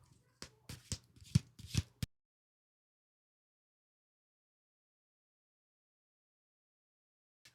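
Tarot cards shuffled in quick bursts of crisp riffles and slaps, a handful of close, distinct flurries over about two seconds, followed by silence.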